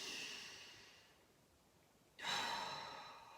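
A deep breath during a guided relaxation exercise: a long exhale fades away, then after a short quiet gap a sharp inhale comes in, close and breathy, with nobody talking.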